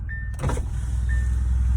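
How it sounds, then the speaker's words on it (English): A car's electric power windows whine as they lower, one short motor hum followed by a second after a brief pause, close by over a low steady engine idle. "I should put down the windows"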